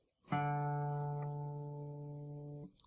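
A guitar's open D string, the fourth string, is plucked once for tuning and rings alone as a clear, steady sustained note that fades gently over about two and a half seconds.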